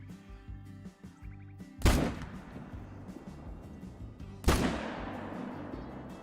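Two loud rifle shots while hunting whitetail and blackbuck in Call of the Wild, a few seconds apart, each a sharp blast with a long rolling echo over quiet game ambience.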